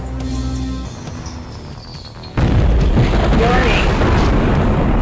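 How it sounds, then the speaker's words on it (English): A nuclear bomb goes off in the 1997 DOS shooter Shadow Warrior: a sudden, massive booming blast that roars on as a loud rumbling wash, following a quieter stretch of game hum and electronic tones. "There's also a missile launcher that shoots normal missiles, heat-seeking missiles, or even a freaking nuclear bomb."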